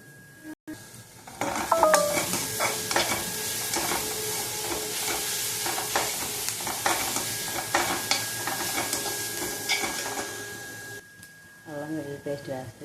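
Ginger garlic paste frying in a pan for homemade egg fried rice, a steady sizzle broken by scraping stirs and clinks of a spoon on the pan, with someone talking over it near the end.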